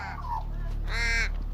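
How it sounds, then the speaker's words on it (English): A crow gives two harsh caws at a roosting tree, the second louder and nearer, over a low steady background hum. "This very tree here is where crows come in very large numbers, make a heck of a lot of noise"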